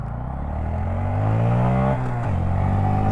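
Honda Grom small-displacement motorcycle engine revving hard: a loud, steady buzzing drone climbs in pitch, dips briefly and climbs again, sustained and close throughout.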